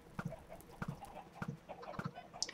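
Minecraft chickens cluck faintly in a rhythmic pattern, short paired clucks repeating about every half second, quiet and alone.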